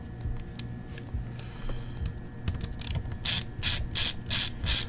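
A screwdriver backs out the heavy-duty hinge screws of an HP 17t-cn000 laptop, giving close ratcheting clicks that start sparse and become a quick rhythmic series of bursts toward the end, with no talk.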